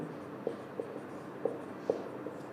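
Chalk or pen writing an equation on a classroom board during a math lesson: a few faint, sparse taps and short strokes spaced irregularly, quiet and fairly close, with no talk.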